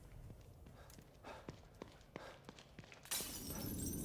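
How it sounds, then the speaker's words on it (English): Glass shatters in a video game, a sudden bright crash arriving after a series of soft footstep-like thuds, then a sustained hiss of scattering shards. "I am glad they make the glass breaking noise every time you get to a new one."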